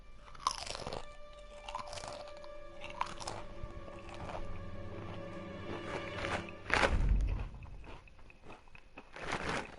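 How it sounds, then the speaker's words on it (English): Tato cheese and onion crisps are crunched close to the mic in several loud, crackly bites, with a heavy crunch near the end. A steady game-music drone plays underneath. "Listen to the crunch."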